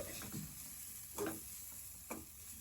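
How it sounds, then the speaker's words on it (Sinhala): A pan of homemade food stirred with two spoons in a home kitchen, giving a few soft scraping strokes spaced about a second apart over a faint steady sizzle. "හැදි දෙකම තියලා කලවම් කරන එක."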